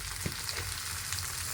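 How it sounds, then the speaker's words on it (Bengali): Mixed leafy greens with salt and turmeric sizzle steadily in a hot pan while being stirred, a constant hiss with a few soft scraping taps, close and moderately loud. "সমস্ত শাক দিয়ে নাড়িয়ে চাড়িয়ে নেব, সিদ্ধ হওয়া পর্যন্ত সুন্দর জাল দিয়ে নেবো"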